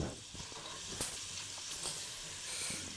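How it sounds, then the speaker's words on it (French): Onions sizzle in a pan for moules frites, a steady bright hiss with scattered small crackles and pops, close and continuous without talk. "dès que vous entendez le crépitement, vous retournez régulièrement les oignons"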